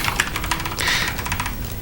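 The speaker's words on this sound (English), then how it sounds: "we're typing a lot today" Rapid, steady clatter of typing on a computer keyboard, close and fairly loud, with dense overlapping keystrokes and no talking.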